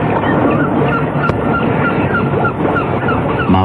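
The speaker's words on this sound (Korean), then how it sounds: "연평도의 갈매기는 유난히도 슬피 울고 있는 것만 같았다" Seagulls on Yeonpyeong Island call continuously, a dense overlapping chorus of honking, crying birds, loud and near, with no voices present.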